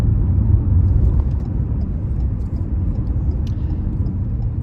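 Car driving along a road, heard from inside as a steady, loud low rumble of engine and tyre noise with faint ticks and rattles above, no talking.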